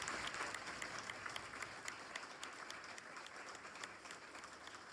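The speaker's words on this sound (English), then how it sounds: "Please give her a huge round" An audience applauds for Diana Flores at a GACA Girls All Stars football event, giving steady, dense clapping from a large crowd heard at a moderate distance for several seconds.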